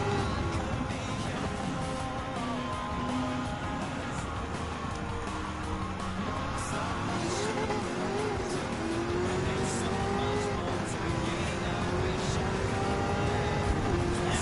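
A Fiat 500F racing in the video game Gran Turismo 7, the engine droning steadily at high revs with rising and falling pitch as it pulls through the gears, continuous and close throughout.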